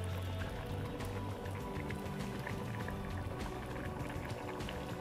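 Thick, almost soup-like aloo mattar paneer curry pouring into a bowl, a close, continuous wet glugging and splashing that stays fairly quiet and alone for several seconds.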